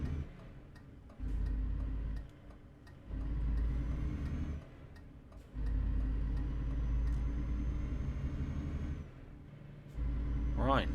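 A truck driving on a snowy Icelandic mountain road in the video game Trucking Days, its engine rumble rising and falling in long surges, with a regular ticking underneath and a voice talking at times.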